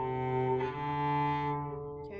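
A cello sounds sustained bowed notes, the fingers arched over the D string so it does not ring, a smooth, steady, fairly soft tone held for about two seconds.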